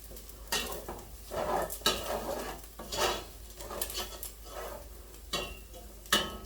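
A roux for New Mexico red chile being mixed in a pan: repeated scraping strokes of a utensil against the pan bottom at an uneven rhythm, with light clinks and a faint sizzle underneath, close and moderately loud.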